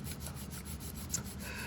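A charcoal pencil tip is filed on a worn scrap of sandpaper, a close, steady back-and-forth rasping in quick, even strokes with no talk.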